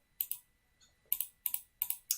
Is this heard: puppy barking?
no